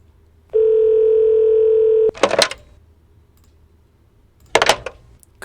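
A phone dial tone hums steadily for about a second and a half in a basketball video game, followed by two short bursts of clicky electronic noise, with no voices.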